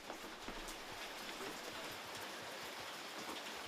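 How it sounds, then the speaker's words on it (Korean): Running water splashing steadily over muddy pumpkins being washed by hand on a farm, a dense continuous wash of spray and drips close by. "호박을 세수시키고 있어요."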